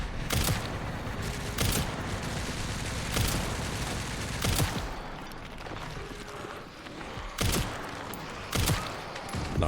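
Gunfire in the video game Resident Evil Requiem: six sharp, loud shots spaced unevenly over a steady rumbling game background, with no talk.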